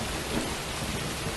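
Rain and thunderstorm in the Asura Project video game: steady dense rainfall with low rumbling thunder, continuous and fairly loud throughout, no voices.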